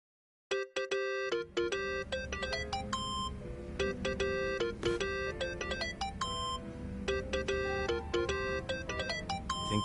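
A phone ringtone ringing in the video game Yakuza: Like a Dragon, a repeating electronic melody of bright beeping tones that plays continuously after a short silence, with no speech.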